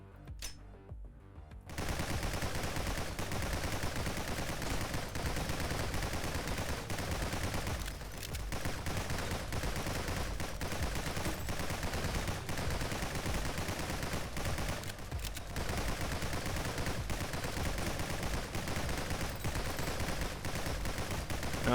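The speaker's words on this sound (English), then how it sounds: "Freeze bullets are way better than I expected them to be." Freeze bullets firing nonstop in the video game Nordic Ashes, a loud and dense stream of rapid gunfire that runs almost without a break after a short quiet start.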